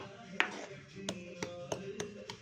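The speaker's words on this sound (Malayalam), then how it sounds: "ഇതിങ്ങനെ തവയിലിട്ട് നന്നായിട്ട് ചതച്ച് കൊടുക്കണേ." Sliced ginger is crushed on a tava, giving about six sharp, close taps at uneven intervals over a quiet background.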